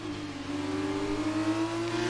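Engines of F1 2019 video-game formula cars slipstream one another down a straight, blending into a steady, high, rising whine that stays loud and close, with no speech over it.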